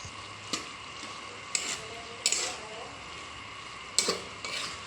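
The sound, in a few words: stirring pork intestine adobo in pan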